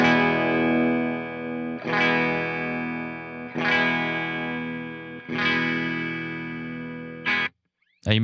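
A clean guitar through an Orange TH30 amp with its shape control adjusted rings out in four sustained, strummed chords, each left to ring out for about two seconds, closing with a brief choked strum.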